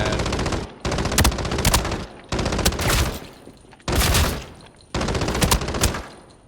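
An assault rifle fires from the hip in the shooter Arena Breakout, in five loud, rapid full-auto bursts of about a second each, separated by short pauses.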